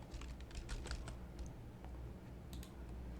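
Keystrokes on a computer keyboard while a file extension is typed into a mapping program, a quick uneven run of crisp clicks over a low steady background hum.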